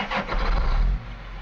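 A John Deere 8370RT tractor engine in Farming Simulator 17 cranks and starts with a strong low rumble, then settles into a steady idle.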